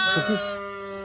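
A sheep bleats once, close and loud, as a ewe nurses her lambs on a farm, the wavering cry trailing off into a steady ringing tone.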